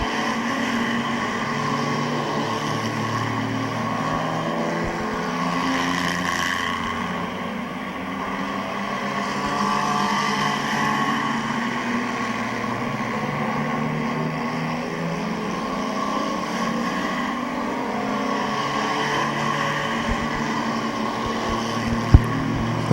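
Race cars roar around the oval at Midvale Speedway, a steady loud wash of engine noise holding for the whole stretch with no breaks, engines droning together continuously.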